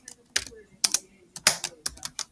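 Typing a name on a computer keyboard, a close run of sharp key clicks in quick uneven clusters.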